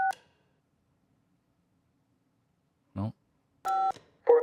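Telephone keypad tones in the video game Kentucky Route Zero: a short dual-tone beep at the start, a pause, then a longer clear tone with a further beep right after, and one brief spoken word in between.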